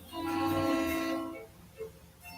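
Old-fashioned steam train horn sounding one long, loud, sustained blast that fades out after about a second and a half, followed by quieter rumbling and a faint brief tone.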